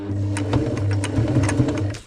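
A sewing machine stitching a seam on a Panacea 2 tent, running loud and close with a rapid, even mechanical hum and regular needle clatter throughout.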